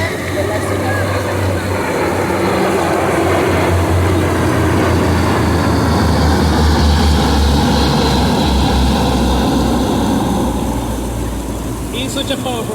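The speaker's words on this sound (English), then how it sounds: "these very heavy cargo planes, military cargo planes, are passing by the time you're saying" Heavy military cargo planes roar overhead in a loud, sustained drone that builds and holds, close and filling the space outdoors on a lawn.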